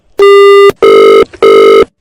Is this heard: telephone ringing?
yes